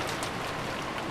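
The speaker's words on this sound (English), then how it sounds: "I began to remember that the raindrops were pounding down from the cold" Steady, dense rain pours down in a visual novel scene from Umineko When They Cry, a loud continuous hiss of falling drops with no gaps and no voices over it.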